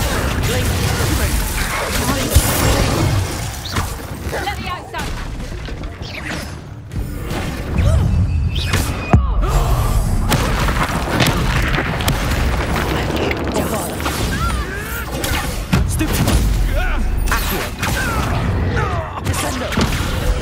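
Spell-casting combat in Hogwarts Legacy: dense, loud magical blasts, booms and whooshes pile up continuously, with mechanical clanks and crashes mixed in, while voices speak over the fight.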